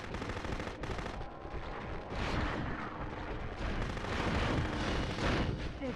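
Heavy weapon fire and blasts from the PS1 game Future Cop LAPD pound continuously, a dense, loud barrage of shots and explosions with rumbling low end throughout.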